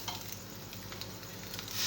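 Eggs frying with onions in a pan give a soft, steady sizzle with faint stirring scrapes, close and fairly quiet, growing slightly louder toward the end, with no talking.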